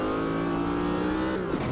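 A Chevy GTP prototype race car in Automobilista 2 at the 24 Hours of Daytona, its engine screaming high in second gear with a sustained loud whine that holds steady, then dips briefly near the end.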